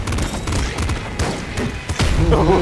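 Rapid gunfire and melee weapon swings deflecting bullets in the top-down shooter Nuclear Throne, loud dense bursts of shots and sharp impacts layered with game music.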